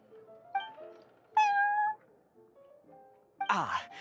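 A cat at the Cat's Tail in the Genshin Impact video game meows several times, short and drawn-out cries spaced apart, ending in a louder whiny wail, close and clear with no talk.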